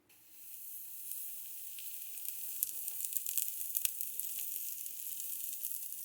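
Waffle batter sizzling on the oiled plates of a Manning Bowman waffle maker, a steady crackling hiss that builds and spits with scattered sharp pops, close and alone.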